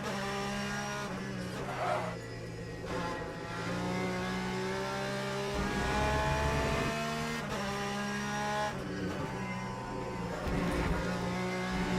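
Race car in Le Mans Ultimate lapping a circuit through the Lesmo corners, a loud engine note rising and falling through gear changes and revs, with tire squeal and skidding as it brakes and turns.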